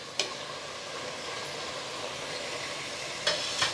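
Half a kilo of washed mutton is added to masala paste in a pressure cooker for biryani: a steady, soft sizzle of frying goes on throughout, broken by a few sharp clinks of a stirring spoon.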